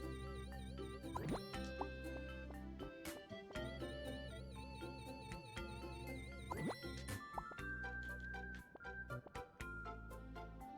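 Watering plants in the video game Little-Known Galaxy, with repeated game sound effects of pouring and dripping water over a synthetic tonal game soundtrack, several watering bursts in succession.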